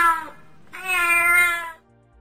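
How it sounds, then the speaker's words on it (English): Cat meowing twice, a short meow followed by a longer drawn-out one, close and clear against silence. "This is a cat."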